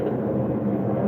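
An airplane flies overhead, producing a continuous low rumbling drone that stays loud and even throughout.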